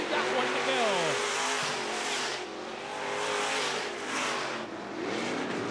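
Sport mod race cars on the dirt RPM Speedway roar past in a steady, loud drone of engines, with revving pitch sweeps as they pass. A track announcer talks over the racing.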